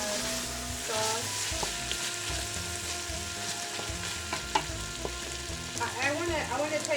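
Carrots stir-fried in sauce for Ethiopian-style green beans sizzle steadily in a pan, with a spoon scraping and stirring through the mixture in loose bursts, close and continuous.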